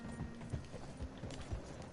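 Rhythmic clip-clop of a horse's hooves in a video game, a few soft irregular thuds over a steady low ambient bed, fairly quiet with no talking.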